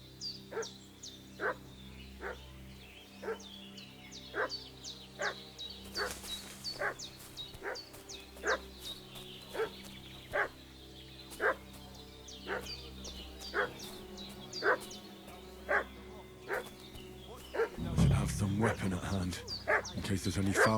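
Dog in Kingdom Come: Deliverance II barking steadily at a regular pace, with yips and whimpers mixed in over game ambience, then a louder burst of movement and noise near the end.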